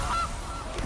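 A brief goose honk sound effect plays in a Magic: The Gathering video game as a Goose card is drawn, heard over a dense, noisy background.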